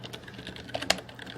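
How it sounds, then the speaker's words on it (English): Light, quick keystrokes tap on a computer keyboard, a few soft clicks and one sharper key press, close and quiet with no talk. "and then we begin typing"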